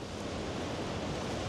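Rough Atlantic surf at a beach in Puerto de la Cruz, Tenerife, a steady broadband roar of breaking waves with some wind rush, continuous and fairly loud throughout, no voices.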